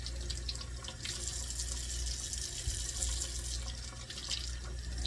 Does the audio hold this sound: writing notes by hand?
no